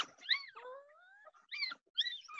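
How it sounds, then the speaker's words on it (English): A small Pomeranian-Chihuahua dog whimpers indoors in short, high-pitched whiny bursts, faint and broken by brief pauses. "Oh, it's whimpering."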